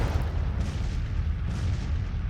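Continuous rumbling artillery bombardment in the Civil War strategy game Grand Tactician, a steady low roar of distant booms blending into one another with no clear gaps.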